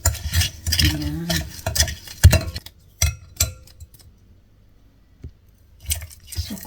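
Sweet potato being stirred together with sugar in a bowl, giving soft, irregular scraping and squishing strokes up close, with brief clinks of a utensil and pauses between bursts.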